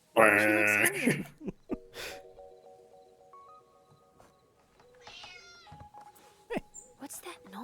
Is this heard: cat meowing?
yes